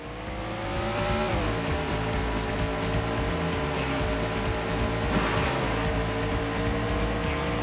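Race cars in the PlayStation 1 game Andretti Racing roar past in an overtake, with loud, steady engine whine and a sharp pitch drop as one car sweeps by, continuous and close throughout.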